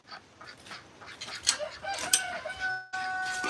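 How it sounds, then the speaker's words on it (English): Guinea fowl at an animal sanctuary give harsh, repeated calls at close to medium range. The calls are loud and come in bursts over a noisy outdoor background, and no one speaks. "what's neat about the guinea fowl is the males and females have different calls"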